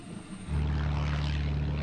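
A propeller airplane drones overhead, its steady low engine hum rising abruptly and then holding loud and constant, with no talking.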